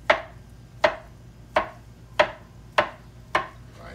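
A knife slices through glazed sweet potatoes on a board, six evenly spaced sharp cuts with short decays, close and alone.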